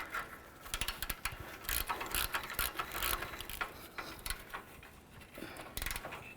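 Ratchet tightening the rear engine mount bolt on a 2007-12 Nissan Altima, a close series of quick metallic clicks in uneven bursts with brief pauses, no talking.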